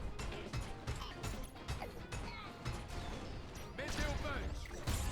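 Meteor Punch attacks in the Goldorak video game, repeated mechanical clanks, whacks and crash impacts in irregular bursts, with game voices talking over the action.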